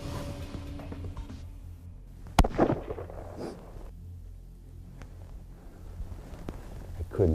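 A single sharp rifle shot cracks out during a whitetail deer hunt in South Dakota grassland, a sudden loud report followed by a brief rustle, with quiet outdoor ambience around it.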